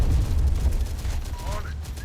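Gunfire rattles steadily through the real-time tactics PC game Terminator Dark Fate - Defiance, a dense, continuous low rumble of shots and battle noise with faint voice-like tones layered over it.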